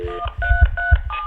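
A quick run of touch-tone beeps from a Motorola Razr cell phone being dialed, several short dual-pitch tones pressed in close succession, near and clear with faint handling thumps underneath.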